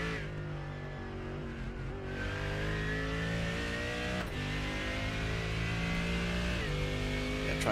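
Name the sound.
GT3 race car engine at Imola, iRacing video game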